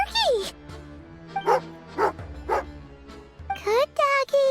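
A dog in the Genshin Impact video game gives several short, bright barks and yips over a musical backdrop, spaced about half a second apart, with a whimpering rise at the start and end.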